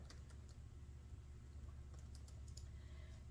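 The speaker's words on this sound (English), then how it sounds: "we're just going to type in a few required items" Patient details being keyed into a BeamMed Sunlight MiniOmni portable bone density ultrasonometer: quiet, irregular key clicks over a low steady hum, close and faint.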